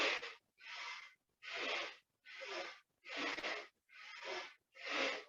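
Slow, deep yoga breaths, alternating inhales and exhales, about seven long even breath sounds, each around half a second to a second, close and clear with short silent gaps between them.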